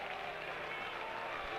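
A stadium crowd at the 1977 All-Star Game in New York reacts to pinch hitter Pete Rose with a steady, distant wash of cheering and applause, fairly faint and unbroken throughout.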